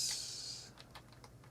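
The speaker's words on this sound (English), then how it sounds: "This keyboard isn't so great, and it's acceptable, but not the kind of thing you'd want to really type a whole lot on" Keys tapped on the keyboard of an AST Advantage! Explorer 486SX/33 laptop, a handful of quiet, light clicks after a brief hiss, faint and close.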